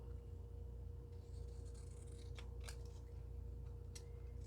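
Scissors cut apart a paper journal page during a planner setup. A few faint, crisp snips and scrapes sound close by over a low, steady room hum.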